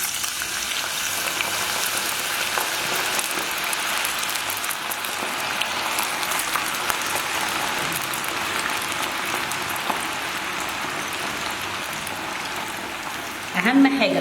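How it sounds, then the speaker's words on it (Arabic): Potatoes fry in hot oil with a loud, dense, steady crackling sizzle that lasts throughout, and a brief clatter is heard near the end. "ونبدا ان احنا نحمرها في الزيت"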